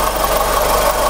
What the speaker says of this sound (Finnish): Moottori käy nätisti ja ei kuluta öljyä öljynvaihtovälillä